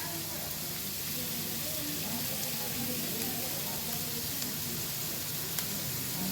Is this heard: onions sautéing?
yes